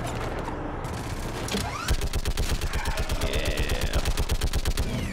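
Mass Effect 3 mounted gun opening up after a short lull, a steady fast stream of loud machine-gun shots running to the end, with a brief spoken word near the start.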